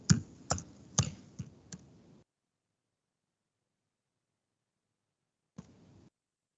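A quick burst of about five keystrokes on a computer keyboard while code is typed, crisp close clicks, then silence and one last soft tap.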